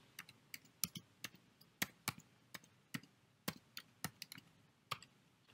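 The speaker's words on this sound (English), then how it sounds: "or you can type it in manually" A web address tapped out on a computer keyboard: crisp, fairly faint key clicks in an uneven, steady rhythm, some strokes louder than others, with no voices.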